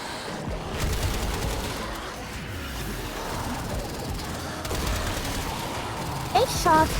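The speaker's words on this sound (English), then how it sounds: "I have 8 shots and a double barrel pistol" Double-barrel pistol shots in the video game Warframe, mixed into a loud, busy battle soundscape of sustained gunfire bursts and crashes, with a voice speaking over the din.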